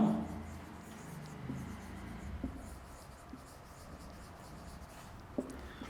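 Chalk or marker scratching across a classroom board during a chemistry lecture on atomic structure, faint continuous strokes with a few light taps, no talking.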